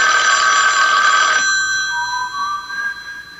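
A telephone bell rings loudly and continuously in a radio mystery drama, then cuts off abruptly, leaving faint tonal residue and quiet room noise.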